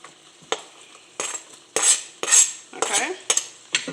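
Chopped onions, garlic and jalapenos are tipped into a pan and stirred with a metal utensil, giving a series of sharp scrapes and clinks with a soft sizzle underneath.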